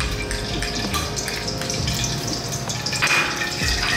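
Fenugreek and mustard seeds sizzling in hot coconut oil, a steady, close frying hiss with faint crackles and light pops throughout, no talking.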